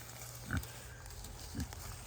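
A pig grunts twice, about a second apart, as it explores unfamiliar ground on a farm; the low, short grunts stand out over a quiet outdoor background with no talking.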